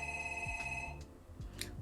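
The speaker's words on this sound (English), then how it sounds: "Hold on, it's a house phone." A house phone rings indoors, a steady electronic trill repeating in bursts at moderate distance, with faint low hum and small background knocks around it; no one speaks.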